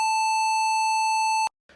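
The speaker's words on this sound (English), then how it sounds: "On the Numbiano, the A4 is located here, and it sounds like this." Numbiano electronic instrument sounds a single A4 note, a steady pure beep-like tone held for about a second and a half, loud and clean, then cut off sharply before a brief murmur.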